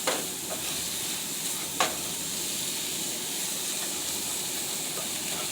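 Sausage broken up and stirred in a frying pan, a steady close sizzle and hiss with a couple of brief scraping clicks from the utensil against the pan.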